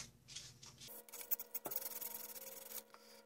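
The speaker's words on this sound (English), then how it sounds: "This business end here, we should sand these corners down at an angle." Quiet, steady rubbing and rasping as sandpaper works the corners of a cardboard launcher tube at an angle, with a faint hum in the background and small scraping strokes.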